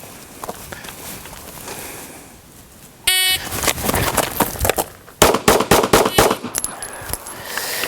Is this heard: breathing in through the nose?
no